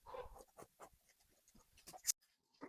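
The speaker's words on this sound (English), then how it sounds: "Now I'll draw a line to connect these points together" Pen or marker drawing a line on a paper sewing pattern for a shawl collar jacket, with soft scratchy strokes in short bursts, close and quiet.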